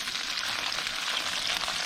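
Chilies fry in a pan over reduced heat for an octopus dish, giving a steady, dense sizzle with no break, close and moderately loud, with no voices.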